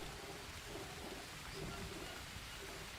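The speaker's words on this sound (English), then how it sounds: "Ah, it's raining again." Steady rain hisses without a break in a jungle survival game, with low rumbling thunder rolling faintly underneath throughout.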